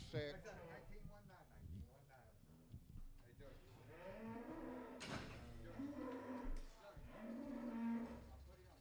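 Cattle at a livestock auction moo in several long, drawn-out calls, close and fairly loud, with voices murmuring underneath throughout.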